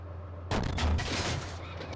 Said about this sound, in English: I think it was like a popped off turret